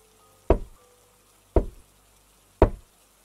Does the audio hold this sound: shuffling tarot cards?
no